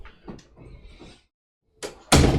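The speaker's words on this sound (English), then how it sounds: "So let me close the door." A door is closed with a few soft handling sounds, a brief pause, then a loud, sharp shut near the end.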